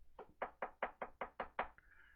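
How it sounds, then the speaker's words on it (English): Eight quick, evenly spaced knocks on a door, close and crisp, followed by a brief faint tone; no voices. "Somebody's going to be knocking at my door."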